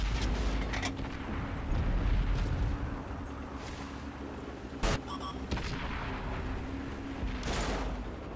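Loud artillery fire striking a StuG 3 assault gun in a tank video game, with a sharp blast near the five-second mark and another burst later, over a constant low rumbling engine drone.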